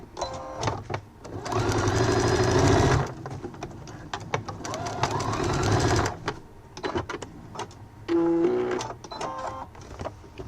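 A sewing machine stitches a seam on a multifunction fabric wallet in a few steady bursts of several seconds each, close and loud, with quieter handling noises and pauses between runs.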